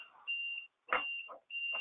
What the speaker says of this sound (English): that alarm just went off to tell me that we have now used our 15 minutes